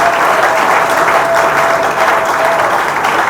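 A large assembly bursts into a sustained ovation of applause at a political gathering, dense steady clapping filling the room at high level from start to end with no pauses.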